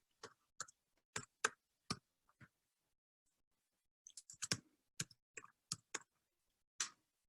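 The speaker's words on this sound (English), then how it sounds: "I'm going to type the name here" Quiet keyboard typing: a short burst of separate key taps, a pause, then a quicker cluster of clicks and a few final taps, close and crisp with no voices.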